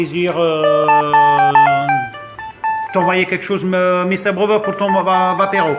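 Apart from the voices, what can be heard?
phone ringtone ringing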